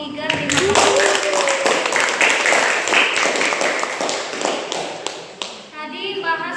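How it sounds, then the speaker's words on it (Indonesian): A class claps for group 3 after their presentation, a dense burst of many hands clapping at close range that runs for several seconds and slowly thins out toward the end. "Kita beri aplaus dulu untuk kelompok 3"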